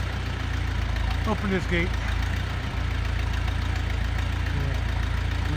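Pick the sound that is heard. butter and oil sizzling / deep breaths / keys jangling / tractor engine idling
tractor engine idling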